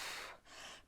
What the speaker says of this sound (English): looks down and does some deep breathing to try to compose herself